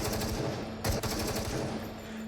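An automatic gun in the VR game Into The Radius fires continuous full-auto bursts, a dense loud rattle of rapid shots with one brief heavier crack partway through.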